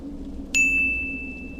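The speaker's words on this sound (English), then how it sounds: "A minute later, there was another notification on the screen." A phone notification chime rings once, a bright clear ding that sustains and slowly fades over a quiet low hum.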